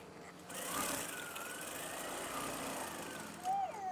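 A sewing machine stitching, a steady whirring motor hum that runs continuously at close range with a brief louder burst near the end.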